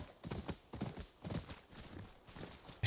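Horse hooves clip-clop in the video game Ghost of Yōtei, a steady walking rhythm of soft thuds in groups, moderately close, with no talk over them.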